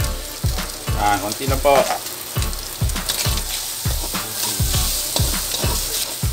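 Beef salpicao sizzles and fries in hot oil in a pan, with a steady crackling hiss and rhythmic stirring scrapes throughout, while someone speaks briefly over the cooking.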